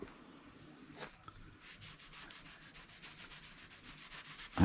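Steady rhythmic rubbing strokes along the grain of a wooden whisky barrel being refurbished, close and fairly quiet, a brisk back-and-forth scrubbing with no talk.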